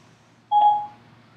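An iPhone gives a single short Siri beep after a voice command, a clean electronic tone lasting about half a second against near silence.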